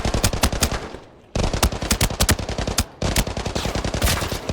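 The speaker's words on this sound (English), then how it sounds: "Hip fire, not bad." An assault rifle in the shooter game Arena Breakout is fired from the hip in three loud, rapid automatic bursts separated by brief pauses.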